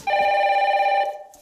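A single steady electronic telephone ring sounds loud and close for about a second, then cuts off abruptly inside a reality-TV house, with a short trailing echo before silence.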